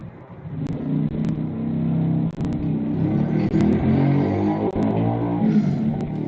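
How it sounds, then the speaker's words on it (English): A car engine revving loudly and steadily, a continuous mid-pitched roar that rises and holds with a few sharp clicks on top, close and alone with no talk. "Rev the engines!"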